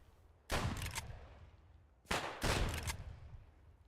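Two bursts of rapid video-game gunfire, each a loud broadband volley of roughly half a second, separated by a short lull, sounding close and harsh with no talk over them.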